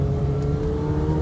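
Engine of a McLaren sports car on a race track, a steady, loud drone with a sustained low rumble and tonal hum, constant throughout without talk.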